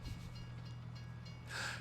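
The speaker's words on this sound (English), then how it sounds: "I got stuck by the choo-choo train." A train rumbles past a crossing in Farming Simulator 22, a steady low mechanical drone with rolling clatter, swelling into a brighter hiss near the end, with no talking.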